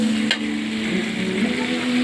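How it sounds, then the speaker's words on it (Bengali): Pieces of pointed gourd fry in hot oil, giving a steady, loud sizzle and crackle throughout with a low hum underneath and no talking. "পটলটা তেলে ভেজে নিলাম কিছুক্ষণ"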